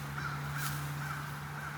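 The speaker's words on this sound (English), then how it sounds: "That's a fucking raven and 4 crows." A raven and four crows call outdoors near beehives, giving repeated hoarse caws from a moderate distance over a steady low hum.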